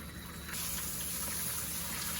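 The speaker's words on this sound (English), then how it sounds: "So I just increased the velocity of the stream of water, and look how quickly everything is rinsed off." Fast stream of water rinsing dahlia tubers, a steady loud gush that jumps in force partway through and keeps rushing.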